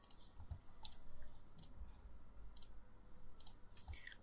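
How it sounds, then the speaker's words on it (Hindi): Mouse clicks while making a selection in Photoshop: a steady series of crisp, light clicks about once every second, close and quiet, with no speech. "अब मैं क्लिक कर रहा हूँ यहाँ से, ये देखें"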